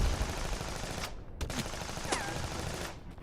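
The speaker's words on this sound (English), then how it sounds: "Worry about the machine gun." Machine gun fire rattles in a played story, with sharp bursts of shots over a dense, noisy background, and no voices are heard.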